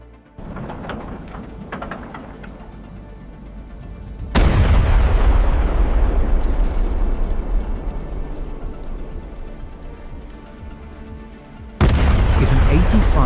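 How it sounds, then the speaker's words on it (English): Heavy 85mm armor-piercing rounds from an IS-1 tank in a video game, two sudden loud booms each followed by a long rumbling decay, set against lighter crackling fire and clatter in the background. "We reduce the caliber further, bringing it down to 85mm using the IS-1 tank loaded with an armor-piercing round."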